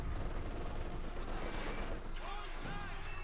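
Machine gun fire in the Company of Heroes 2 battle game, a dense continuous fusillade of distant gunfire and combat noise filling the whole stretch under a commentator's voice.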